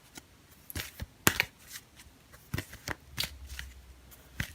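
Tarot cards shuffled by hand during a reading: a series of sharp papery riffles and slaps, irregularly spaced and close up, with no talking.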